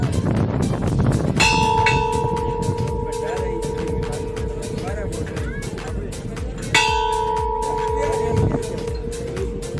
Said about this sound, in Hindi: बजा दिया घंटा